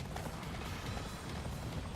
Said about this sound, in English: B button to get on your horse.